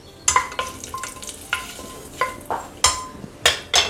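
Whole spices (bay leaf, cinnamon, kalpasi, cardamom and cloves) fry in coconut oil in a pan for a vegetable white kurma. A soft sizzle runs under repeated sharp clinks and scrapes of stirring in an irregular rhythm.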